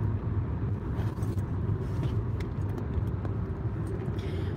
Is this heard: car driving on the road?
yes